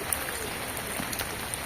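Rain comes down in a continuous broadband hiss with occasional sharper drop taps, fairly close and unbroken, with no clear voice over it.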